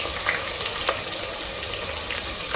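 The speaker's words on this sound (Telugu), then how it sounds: "ఫ్రై చేసుకుందాం. అవి ఫ్రై అయ్యే వరకు వెయిట్ చేద్దాము." Green chillies and onions fry in a pan, giving a dense, steady sizzle with light stirring scrapes and small crackles throughout and no talking.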